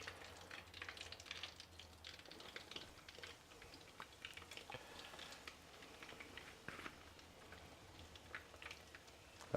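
Coconut-coated chicken goujons frying in shallow oil in a pan, a close, steady crackle and spit of fine pops running throughout, with a louder burst at the very end and no voices.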